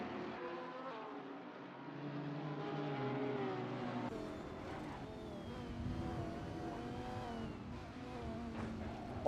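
A Lamborghini GT race car screams through the gears around Bathurst in a racing video game, its engine note rising and shifting steadily, with other cars droning nearby and no talk.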